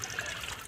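Radiator coolant draining from a 2005 Chrysler Pacifica, a faint continuous trickle of liquid, quiet and steady with no voices.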